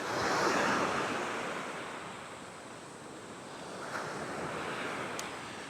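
Surf washes steadily onto Clifton Beach in the wet season, a broad, continuous roar of breaking waves with gusty wind noise on the microphone and no voices.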